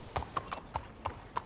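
Horse hooves clip-clop at a steady walking pace in Red Dead Redemption 2, six distinct knocks close by over a low background.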